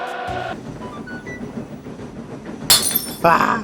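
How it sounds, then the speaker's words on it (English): Glass shattering at a rowdy football gathering on Sodor, a sharp bright crash followed moments later by a second burst of breaking glass, both loud over a busy background. "My glass is literally broken."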